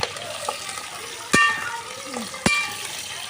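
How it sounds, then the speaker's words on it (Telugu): Chopped onions sizzle in a pan with green chilies, dried red chilies and curry leaves, a steady frying hiss broken by two sharp clacks of a stirring utensil against the pan. "బాగా వేయించుకోవాలి ఫ్రెండ్స్"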